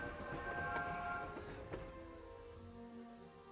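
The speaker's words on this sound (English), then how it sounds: "take the train to Hogwarts, and take the train back again" A train rumbles steadily in the LEGO Harry Potter video game, a low continuous roll with faint sustained tones over it, soft and unbroken throughout.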